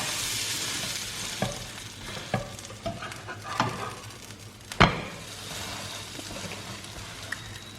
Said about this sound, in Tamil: ஓகே, நம்ம ப்ரெட் இங்கே குக் ஆகிட்டே இருக்கு